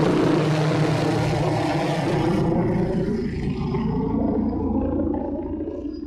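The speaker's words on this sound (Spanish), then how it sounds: "hay un helicóptero que permanentemente sobrevuela la zona" A helicopter circling overhead above a lakeside landing area, producing a loud, continuous rotor and engine roar that stays steady and gradually thins out and fades over several seconds, with no voices.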